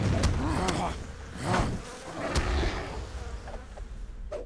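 A swarm of bees summoned by a Beorning character in an online fantasy game buzzes in wavering, droning layers, with sharp attack clicks breaking in over the steady hum.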